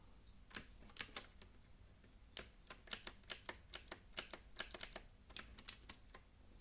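Typing on a Dareu EK880 mechanical keyboard with brown switches, close and fairly quiet, in irregular bursts of crisp key clicks separated by short pauses.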